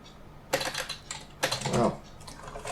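Typing on a computer keyboard with an English US layout during an operating system install, close and distinct bursts of clicking keystrokes separated by short pauses.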